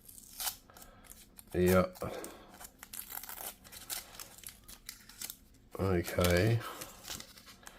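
A sticker is peeled off new Sony wireless earbuds in two crinkly, tearing bursts of plastic film close up, with rustling handling in between and a voice speaking briefly.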